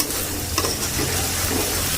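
Chicken and egg yolk cooking in a pan, a close, steady sizzle and frying hiss with light stirring scrapes and no talking over it.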